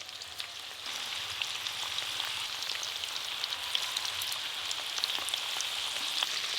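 Chicken pieces frying in hot oil for a crispy chicken dish, a soft continuous sizzle with fine crackles and pops, steady and fairly faint, with no talking.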